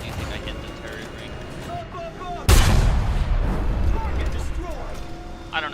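A tank cannon shot in War Thunder erupts as a single loud, close boom that cuts abruptly into a quieter battlefield ambience, then rumbles and decays over several seconds with lighter mechanical noise afterward.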